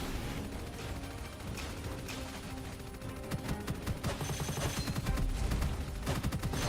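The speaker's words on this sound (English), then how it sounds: "I'm just not gonna stop shooting because I want to keep the rate of fire up on this" A gun under test fires long rapid bursts of loud, tightly packed shots without pause. The dense crackle builds and grows heavier toward the end, heard close up and with no talk over it.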